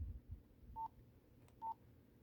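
Two short beeps from a cell phone keypad during unlocking, spaced about a second apart over faint low background rumble.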